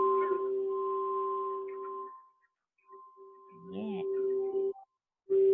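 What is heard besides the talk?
singing bowl tuned to the G note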